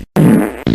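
A loud, close fart blasts out during a fart battle match, a buzzy blat after a brief gap, then a second shorter burst.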